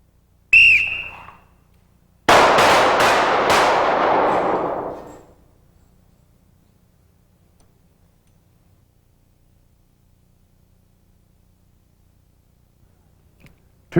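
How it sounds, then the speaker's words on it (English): Two handgun shots fired during a low light shooting drill, a brief sharp report followed by a second longer, louder blast that rings out before fading into quiet. "Two shots, gentlemen."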